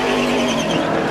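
A race car on pit road during the 2004 NBS Tropicana Twister 300 caution, its engine running loud and steady at close range, a sustained roar with no talk over it.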